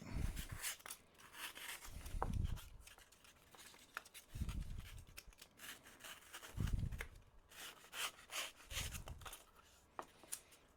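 A knife carves a chunk off the top of a piece being shaped into a small volcano, giving about five separate rasping, scraping strokes spaced a couple of seconds apart, close and fairly quiet.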